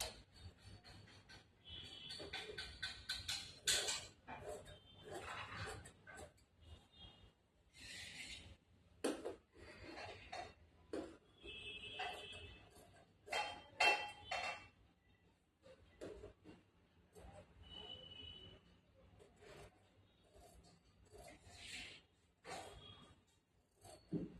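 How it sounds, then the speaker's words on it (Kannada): Scissors cut through blouse fabric in bursts of crisp snipping and rasping strokes, separated by quiet pauses, with no talking. "ಇವಾಗ ಕಟ್ ಮಾಡ್ಬೇಕು"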